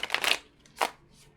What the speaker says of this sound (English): And then we are going to pull some animal oracle cards.